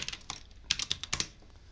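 Fast, light typing on a computer keyboard whose O key double-clicks, giving crisp irregular clicks in short bursts, close and fairly quiet, with no talking.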